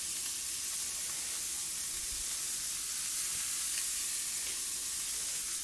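Potatoes with red bell and serrano peppers fry in a pan, giving a steady, close sizzle and crackle that holds evenly throughout with no talking.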